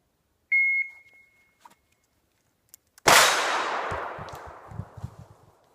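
A shot timer beeps once, then after a pause of about two and a half seconds a single loud, sharp handgun shot is fired at a target, followed by a long echoing decay.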